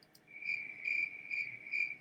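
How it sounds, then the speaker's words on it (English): A cricket chirps steadily in a quiet setting, its shrill trills pulsing in about four evenly spaced bursts over a continuous thin tone, close and moderately loud with no voices. "Sometimes it's just a cricket."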